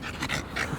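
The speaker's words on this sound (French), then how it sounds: "C'est un bulldog français." A French bulldog pants in quick, rhythmic breaths close by, with no other sound.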